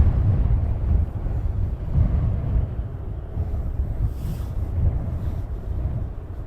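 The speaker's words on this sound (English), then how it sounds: "that wind is bad" Strong wind at Luton Airport buffets the microphone with a steady low rumble and gusty surges throughout, loud and close with no other clear sounds.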